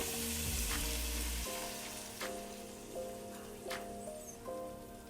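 Garlic and onion fry in a pan ahead of heavy cream, producing a steady crackling sizzle with scattered pops and a few tonal clinks over a soft continuous hiss.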